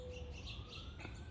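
Small birds at a backyard bird feeder in a garden, giving a few faint thin chirps and tweets over quiet outdoor background.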